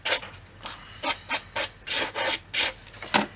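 A nail file rasps back and forth against a surface in close, uneven strokes, about eight short scraping passes with brief pauses between them and no voices.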